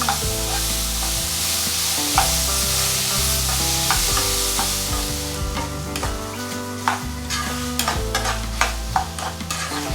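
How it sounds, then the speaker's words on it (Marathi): Guava pieces sizzle steadily in hot oil in a pan over low flame, with repeated clinks and scrapes of a spoon stirring them, close and without talk. "फोडणी देऊन झालं पेरू थोडंसं फ्राय करून झाला"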